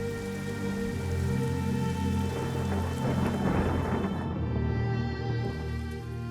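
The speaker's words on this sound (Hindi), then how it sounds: "अहंकार में तपते इंद्र ने 7 दिनों तक लगातार ब्रज में वर्षा करवाई" Heavy rain pours steadily while a deep thunder rumble swells and rolls through the middle, forming a dense, continuous storm that sits under a low sustained musical drone.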